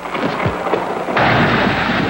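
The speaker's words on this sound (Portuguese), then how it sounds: "mas um raio pôs tudo a perder" Thunder from a lightning strike during heavy rain over an outdoor papal Mass in Miami: steady rain noise, then a sudden loud crash of thunder that stays on as a dense rumble to the end.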